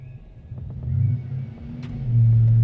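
A Procharged 6.2L Denali truck engine with a BTR cam idles and rumbles on a dyno, with its low drone swelling toward the end as it picks up.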